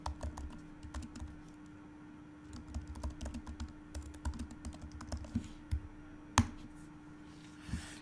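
Code being typed on a computer keyboard, with quick irregular key clicks and taps in short bursts over a quiet background hum, fairly close and moderately soft.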